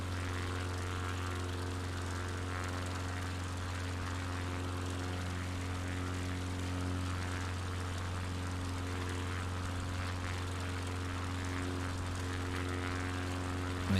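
Light aircraft engine held at full throttle in flight over North Queensland bush, a steady, loud propeller drone with strong low harmonics running unbroken throughout, no voices.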